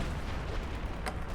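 A mobile heavy artillery mechanized vehicle fires in Company of Heroes 2, with rumbling booms under the battle noise and a couple of sharp bursts near the end.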